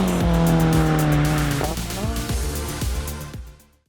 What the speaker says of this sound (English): let's go for a drive in Adam LZ's R34 Skyline GTR